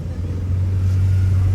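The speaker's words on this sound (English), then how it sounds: "this guy broke down in his old car" An old car that has broken down in Madagascar gives off a loud, steady low engine rumble that holds fairly even throughout, with faint background voices.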